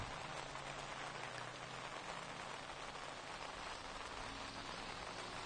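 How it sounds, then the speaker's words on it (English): Rain falls steadily at an Ultra 4 USA off-road race, a dense, even patter of drops on surfaces, constant and fairly close, with no voices. "the rain kind of gets heavy, lightens up. Rains a little harder again."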